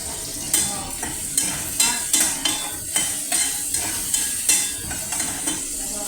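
Pasta cooking in a pan, stirred with a utensil in regular scraping strokes about every half second over a constant sizzle, close and clear with no talking.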